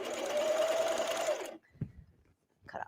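A serger stitching binding onto a tank top runs steadily and close for about a second and a half, then stops, leaving faint handling noises.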